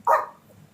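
A single short dog bark, sharp and fairly close, trailing off quickly into quiet.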